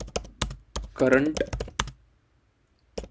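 Sharp, separate keystrokes clatter on a computer keyboard in short bursts, close and distinct, with someone speaking briefly between the taps.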